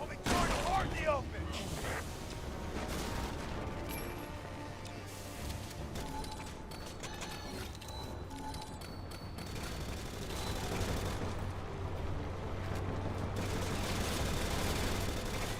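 Gunfire and grenade-launcher rounds boom and rattle in a dense, continuous barrage in Resident Evil 6, mixed with in-game voices and action noise at steady loudness.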